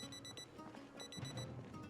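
A personal alarm goes off in a quick repeating beep pattern, bright and electronic, fairly faint and steady over a low background hum.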